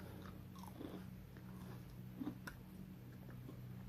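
Crunchy matcha funnel cake fries bitten and chewed up close, with a few soft crunches standing out over a faint steady hum, no talking.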